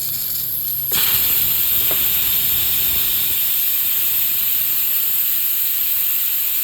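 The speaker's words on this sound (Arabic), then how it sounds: "هطلع البخار يدوي عشان انا مستعجل" A pressure cooker's steam is released by hand through its valve, a loud continuous hiss that jumps up sharply after a moment and then holds steady and dense throughout, with no voices.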